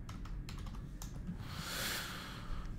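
Rapid typing on a computer keyboard, with close, dry key clicks in irregular bursts over a soft background hiss, with no talking.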